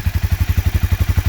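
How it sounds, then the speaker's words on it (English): A 2016 Honda CBR 300R motorcycle engine idles close up with a steady, rapid low thumping pulse and a light popping, even rhythm throughout with no talk. "The engine doesn't become loud, and it has this sound right here."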